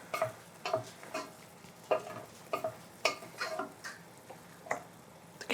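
Pasta sauce ingredients with fresh cherry tomatoes sizzle in a pan, and a spoon taps and stirs in a loose rhythm of short clicks over a soft, steady frying hiss.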